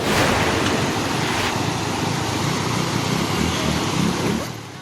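Rushing floodwater in Barangay Paruwayan, Alamada, Cotabato, a loud, continuous broadband roar with wind buffeting, easing slightly at the very end.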